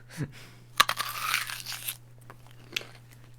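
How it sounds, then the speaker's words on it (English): A raw whole onion bitten into like an apple, giving one sharp close crunch followed by about a second of dense crackling chewing, then a quieter second crunch. "Just eat the fucking onion."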